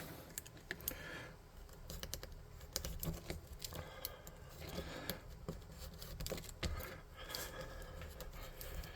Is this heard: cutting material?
yes